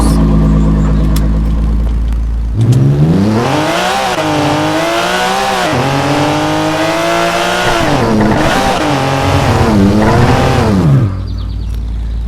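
A Porsche 911 GT3 RS in a driving video game roars away from a standstill, its engine revving hard and climbing in pitch through several upshifts, loud and continuous with no talking.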